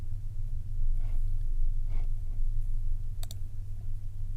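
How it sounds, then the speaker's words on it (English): A quick double mouse click on a software icon in a reports and documents library sounds once, faint and close, over a steady low background hum. "I click on that icon there"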